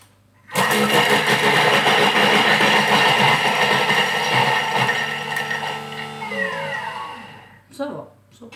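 A blender pulverizing raspberries for raspberry lemonade, starting abruptly with a loud, steady high-speed whir and grind that holds for several seconds, then winds down and stops with a brief final burst.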